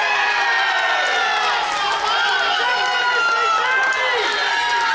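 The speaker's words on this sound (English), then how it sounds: "She's just heard a bunch of ACT people scream." A crowd of ACT supporters screams and cheers loudly at a women's teams final of the AEBF Nationals, a dense, continuous wall of high shrieks and whoops with no break.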